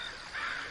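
A crow caws once in a brief, rasping call, a bird sound effect layered into a music production, moderately quiet and heard alone.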